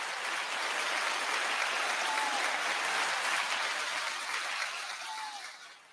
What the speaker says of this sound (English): I like them claps. That was hot.